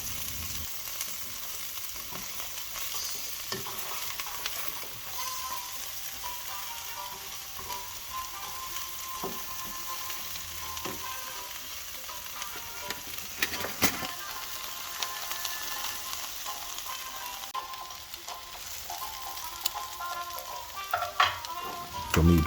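Potatoes and other vegetables are stirred and fry in a pan, with a continuous crackling sizzle and occasional scraping knocks throughout.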